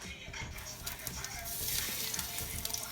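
Avocado oil crackling and sizzling in a hot pan, a steady soft hiss with small pops, fairly quiet and continuous throughout.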